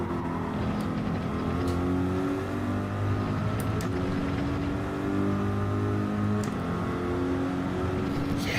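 Corvette GT3 race car engine in Gran Turismo racing at Lago Maggiore, a steady loud droning roar with shifting pitch as it accelerates and changes gear, continuous throughout.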